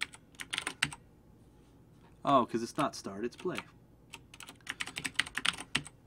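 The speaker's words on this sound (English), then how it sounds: "My keyboard is mechanical and it's loud." Clacky keystrokes on a loud mechanical computer keyboard come in quick bursts before and after a short spoken line from a person at the desk.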